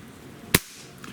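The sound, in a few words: Beeman QB II 1085 air rifle firing a pellet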